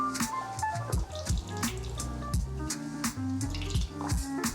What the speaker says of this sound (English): just run out about half a cup or a cup of beer, just to flush out behind the tap